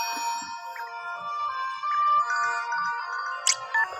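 A phone ringtone plays for an incoming call in the Heartopia video game, a steady melodic chiming tune repeating throughout at moderate volume, with no voices.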